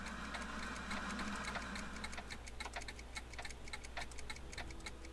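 An old-fashioned clock ticks steadily in Back to the Future: The Game, a regular quiet tick-tock over a low hum and faint background noise.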